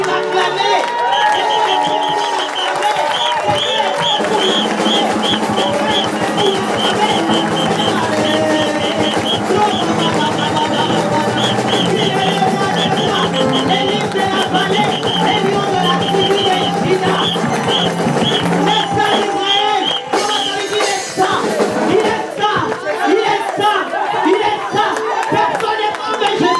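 A church congregation cheers and acclaims Jesus in a loud, sustained roar of voices that carries through the whole stretch, with shouts rising over a dense, continuous backdrop.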